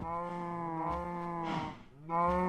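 Cows mooing in Minecraft Feed the Beast, two long, close, loud lowing calls separated by a brief dip, with no talking.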